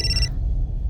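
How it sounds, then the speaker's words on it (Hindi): A telephone's electronic ring sounds briefly and then cuts off, leaving a low background hum. "मेघा का फोन?"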